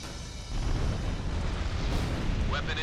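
A weapon impact blast in Ace Combat 6 on Xbox Series X, a loud broad rumbling explosion that swells in about half a second and sustains a dense roar to the end, with a brief higher swish near the close.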